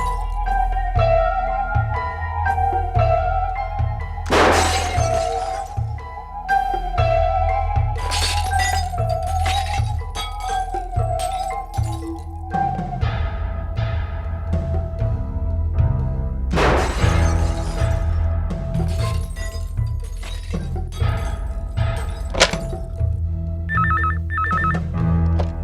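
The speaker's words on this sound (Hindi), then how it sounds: "यहाँ बिल्डिंग के इतने सारे कांच टूट रहे, इतना शोरगुल हो रहा" Glass windows in a building shatter in loud crashing bursts amid a repeating telephone bell ring, with tinkling debris and clattering between the breaks.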